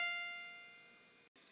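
A single sustained note F, the pitch on the top line of the treble clef, rings out alone and decays steadily before a brief gap and a faint hiss.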